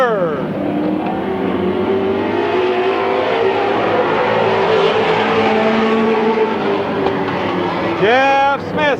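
Race cars roar around Midvale Speedway in 1995, a loud continuous engine drone with rising and falling pitch as the pack circles the oval, ending in a sharp nearby rev sweep; an announcer calls the race over it.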